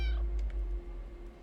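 Gucci the cat lets out a single short, close meow at the start, followed by faint steady background hum and a couple of soft clicks.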